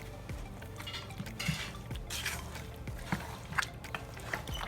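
A cooking pot is handled while Ghanaian chicken stew is made, with scattered metallic clinks and scrapes of a spoon against its sides over a low kitchen background.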